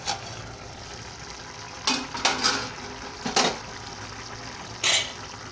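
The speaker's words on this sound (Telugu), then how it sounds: "చూడండి పులుసు ఎలా ఉడుకుతుందో చూపిస్తాను నేను మీకు ఇప్పుడు." Okra tamarind stew, bendakaya pulusu, simmers under a plate lid in a pot, giving a soft, steady bubbling hiss broken by a few brief metallic clinks and rattles.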